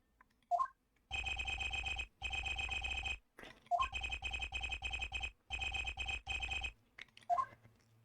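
A cell phone in Ace Attorney: Apollo Justice rings in repeated electronic buzzing bursts, several long tones broken by short gaps, with faint blips between them and no voices.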